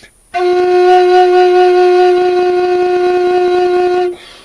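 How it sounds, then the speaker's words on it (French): A homemade bamboo flute tuned to F sharp sounds its base note as one steady, loud, sustained tone of about four seconds, with no voices. "Donc ça c'est le son du sifflet, je veux dire, de cette flûte."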